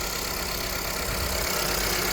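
A 2017 Ford Explorer Sport engine idles steadily up close, a constant low rumble with no voices over it.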